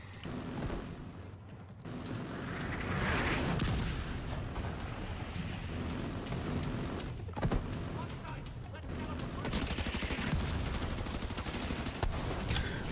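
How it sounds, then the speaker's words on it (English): Autocannon fire in a smoky combat video game, a dense, sustained rumble of rapid shots and blasts running throughout, loud and continuous with a voice speaking over it. "The autocannon seems to be firing blind"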